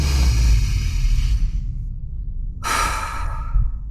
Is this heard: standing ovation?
no